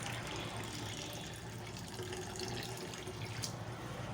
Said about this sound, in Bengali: তো দিয়ে দিলাম জল